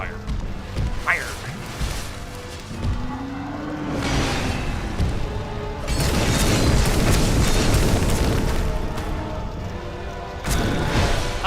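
Fire attack explosions in Dark Souls 2, heavy booming blasts and crashing impacts spread across the stretch, with a voice talking over parts of it.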